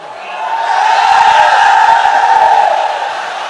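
An audience at a Bengali religious sermon chants slogans together, a massed roar of voices that swells up, holds steady and then slightly eases.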